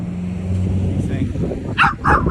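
A small dog gives two short, sharp yips near the end, close and fairly loud, over wind noise and a low background drone.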